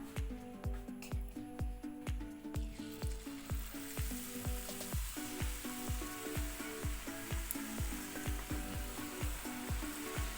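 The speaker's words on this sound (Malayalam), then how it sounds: "ബാക്കിയുള്ള മുട്ടയും നമുക്ക് അതുപോലെ തന്നെ മാവിൽ മുക്കി ഫ്രൈ ചെയ്തെടുക്കാം" Batter-dipped boiled eggs deep frying in oil for egg bajji, giving a steady close sizzle and hiss over a regular low rhythmic thumping that runs throughout, with no voices.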